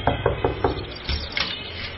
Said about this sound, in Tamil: யோ, அந்த கதவை தட்டியா?